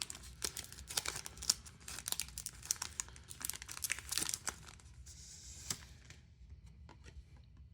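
Grand Archive trading card packs being opened, with close, quiet crinkling and tearing of foil wrappers in irregular bursts that fade toward the end; no talking.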